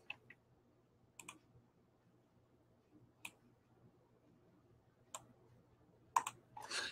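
A computer mouse clicking a handful of times during a cut-and-paste of a picture, with sparse, sharp, quiet clicks scattered over a faint steady hum.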